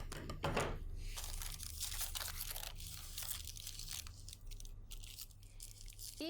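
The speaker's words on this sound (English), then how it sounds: "I cut the excess of the sleeve." Scissors cut through blouse fabric to trim the excess from a sleeve, giving a run of close, crisp crunching snips and rustles, with short pauses between cuts.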